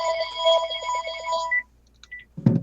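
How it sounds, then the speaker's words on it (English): A telephone rings with a steady electronic tone for about a second and a half, stops, and is followed by a brief low thump. "Really soon, your phone is gonna ring."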